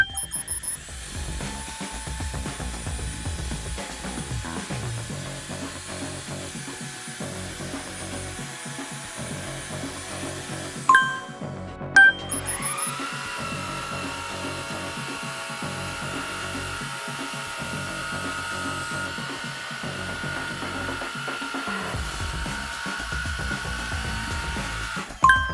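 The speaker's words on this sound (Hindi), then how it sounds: "अब इस टेस्ट में देखते हैं कौन सा वैक्यूम क्लीनर ये हेयर को अच्छे से साफ करेगा" Dyson and Shark vacuum cleaners suck up pet hair, a steady motor whine running throughout, cutting off briefly midway before starting again with a rising hum.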